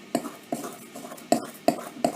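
Wet, doughy scone dough is mixed in a bowl with a utensil, giving about five distinct knocks and scrapes against the bowl at uneven intervals, close and fairly quiet, with no talk.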